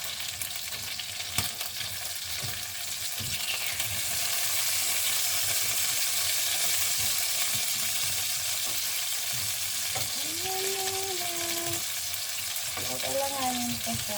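Chicken frying in a pan, a steady broadband sizzle running throughout with occasional stirring knocks and a brief tonal squeak near the end, fairly close and with no speech.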